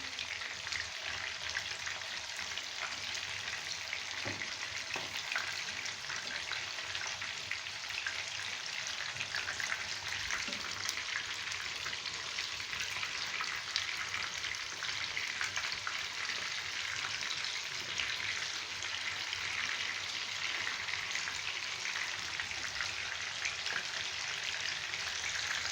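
Beef mince kebabs fry in a pan with a continuous, even sizzle and crackle, close and steady throughout, with no talking.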